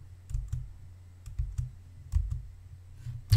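Quick bursts of keystrokes on a computer keyboard, a few separate taps and short clusters spread across a few seconds, close and fairly quiet, with no voice.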